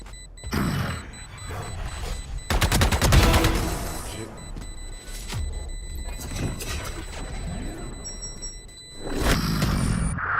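Bursts of automatic gunfire from the video game Valorant crackle loudly in rapid strings, with mechanical clicks and reload clatter between volleys and a final sharp burst near the end.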